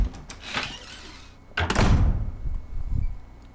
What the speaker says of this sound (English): In the door that we just unlocked.